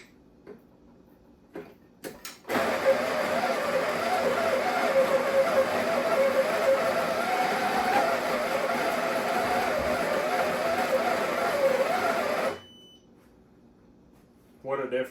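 A repaired Breville Barista espresso machine grinder runs for about ten seconds as a steady, loud whirring drone that starts and cuts off abruptly, with a few clicks and handling knocks before and after.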